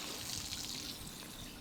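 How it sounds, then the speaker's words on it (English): Water shoes being rinsed off under running water, a steady close trickle and splash of flowing water throughout, no voices. "You just rinsing off your water shoes."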